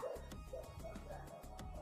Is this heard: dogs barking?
yes